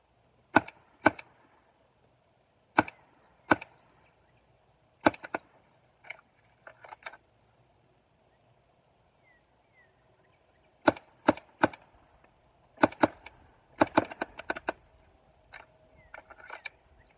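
A paintball marker fitted with a Freak barrel and a Deadly Winds tip fires sharp, dry cracks, some single and others in quick bursts, with near silence between the shots.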